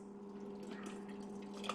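Chili with meat pours through a funnel into canning jars, a brief, soft, wet slosh and trickle heard close up and alone.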